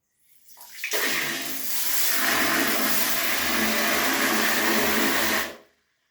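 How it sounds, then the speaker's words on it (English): Water rushing out of a toilet flush mechanism when pressed, a sudden loud gushing that rises, holds steady for several seconds, then cuts off abruptly, close and alone. "let's press and see the amount of water that comes out"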